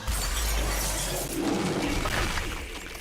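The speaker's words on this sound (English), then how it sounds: "And when it breaks, this happens. Shatter." Shield shattering effect in a Star Wars video game, a single loud glassy burst with a bright crackling top end that fades over a few seconds, heard alone.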